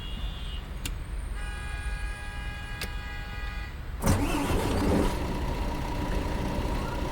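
A MAN Lions Intercity coach in Fernbus Simulator chimes and beeps through its ignition sequence, then the diesel engine cranks and catches with a sudden roar before settling into a steady idle.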